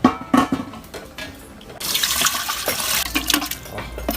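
Water pours and splashes into a pot of braised pork ribs, starting after a few knocks and clatters and continuing as a steady, fairly loud rushing stream, no talk.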